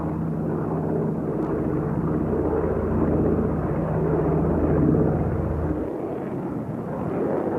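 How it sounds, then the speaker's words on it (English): Douglas C-47 Dakota flying low and slow, a steady droning rumble of piston engines with propeller hum, loud and continuous throughout, easing slightly near the end. "Flying low and slow, the C-47 was an excellent platform to pinpoint exactly where enemy targets were."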